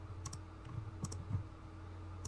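Typing on a computer keyboard: a few quick, light key clicks in short bursts, close and fairly quiet, with no voices.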